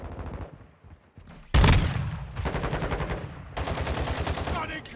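Gunfire in Call of Duty Modern Warfare II on PS5: a loud, sharp shotgun blast near the middle, then bursts of rapid shots and clattering action, with fainter game sounds before.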